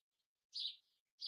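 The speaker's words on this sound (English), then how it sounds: "Did anybody else hear that tweeting?" A small bird chirps outside an apartment, two bright, short high calls with a faint trailing note between them, clear against near silence.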